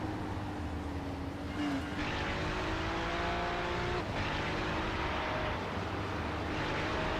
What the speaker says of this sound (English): He is drifting this Ferrari, Bryan, through the S's, trying to hold off Alcrudo.